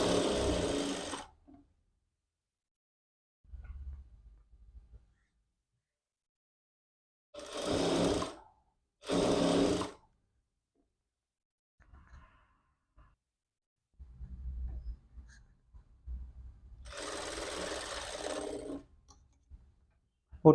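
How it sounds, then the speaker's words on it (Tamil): Sewing machine running in bursts while stitching a quarter-inch seam on a back-open princess-model jacket, with loud stretches of whirring separated by pauses and quieter low mechanical hum and clicks between. "1/4 இன்ச் தையல் போட்டுருங்க"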